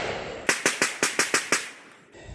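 Seven pistol shots from a Taurus G2 handgun ring out in quick, evenly spaced succession at an outdoor shooting range, loud and close, then stop.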